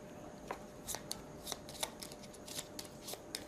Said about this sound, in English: I've got to shuffle a few times to get my memory out of this